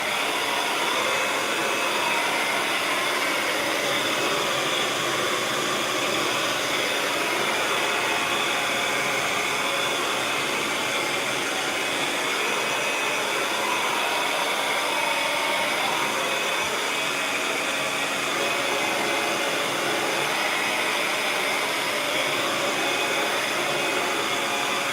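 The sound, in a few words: hair dryer drying paint on a canvas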